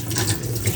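Tap water runs steadily as avocado leaves are rinsed under the faucet, a close, continuous splashing stream with slight rippling changes as the leaves move through the flow.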